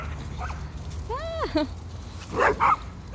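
A little shy puppy named Stanley yips and barks during group play, giving a short rising whine followed by a couple of sharp yips, close and clear over faint background chatter, with a person's brief exclamation.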